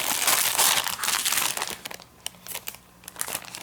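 An ironed brown paper lunch sack crinkles loudly up close, a dense continuous rustle at first that breaks into separate crackles and crunches as the handling slows.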